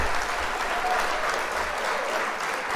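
A short, steady burst of crowd applause, dense and even, lasting only a few seconds with no talking over it.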